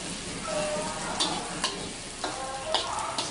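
Food fries in oil in a pan during a Malaysian cooking class, a steady close sizzle punctuated by sharp clicks and scrapes of stirring.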